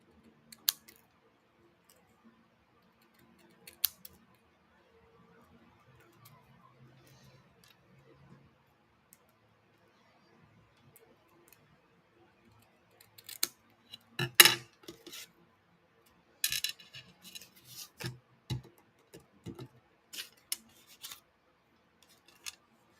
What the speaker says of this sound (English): Cut these little tabs off.